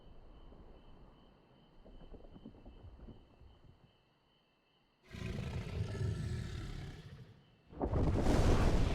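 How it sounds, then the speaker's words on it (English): A creature roars in the video game Final Fantasy XIV, with a soft ambient rumble giving way to two loud bursts of roaring, the second sharp and bright near the end. "The tiny scream. Roar, not a scream."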